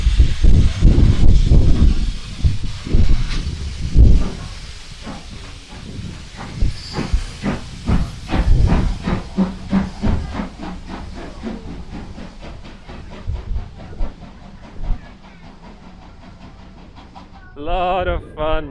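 An oil-burning steam locomotive, not coal-fired, vents loud hissing steam up close, with rhythmic chuffing bursts that slow and fade, then a brief sharp whistle-like blast near the end; voices are heard faintly.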